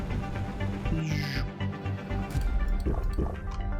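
A character drinking water in the survival game Planet Crafter, with a short liquid gulp and fill sound over a constant game background tone, moderately loud, no voices.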